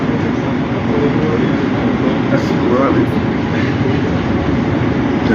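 A train rumbles past near a station in Gatchina, Russia, a steady loud rolling roar with wheel clatter throughout, while people talk over it.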